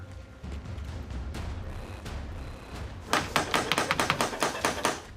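Gendarmes pound on a door during a dawn raid on armed squatters: a rapid series of heavy knocks, about a dozen blows in quick succession over steady background noise.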